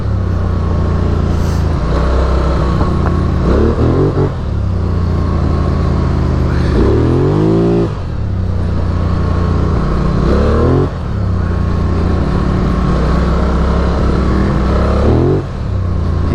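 A Polaris Sportsman 1000 XP ATV engine revs hard in repeated bursts, each swelling and dropping back to a rumbling idle, close and loud with no talk over it.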